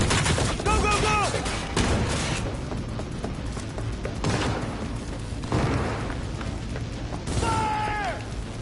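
Gunfire rattles through a Cyberpunk 2077 firefight in rolling bursts and booms, with brief electronic whines and some voices mixed in.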